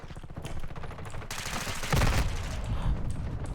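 Rapid automatic gunfire in Call of Duty MW2, a dense, loud burst of close-quarters shots running throughout, swelling heavier partway through.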